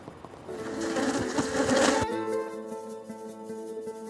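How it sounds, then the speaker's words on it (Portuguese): Buzzing of jandaíra stingless bees, native to Northeast Brazil, a steady close hum that swells briefly into a louder whirring rush before settling back to a softer, even drone. "A jandaíra é uma abelha do Nordeste do Brasil."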